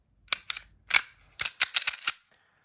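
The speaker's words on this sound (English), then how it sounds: "pull those two takedown pins down in the same time and just release it forward" Taurus G3C compact pistol being taken down, with a string of sharp metallic clicks and snaps as the takedown pins are pulled and the slide is released forward, close and crisp with short gaps between them.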